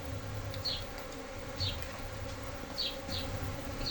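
A dense swarm of stingless Jandaira bees buzzes steadily and close by, a continuous droning hum with a few individual bees whizzing past now and then, no voices.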